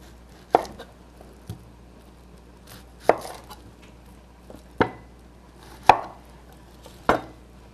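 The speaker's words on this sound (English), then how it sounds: "Now to cut another onion." A knife cuts through an onion on a cutting board in sharp, separate thuds about a second apart, close and crisp, no talking.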